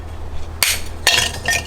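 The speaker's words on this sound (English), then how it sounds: "with a hammer, be very careful on this. Just break a little bit" A hammer cracks a clay orchid pot, giving two sharp separate knocks about half a second apart, each followed by a brittle crumbling clatter of shards, close and loud.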